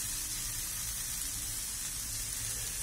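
Olive oil sizzling in a hot pan, a steady dense hiss of frying that runs continuously and evenly throughout, close and fairly loud with no voices.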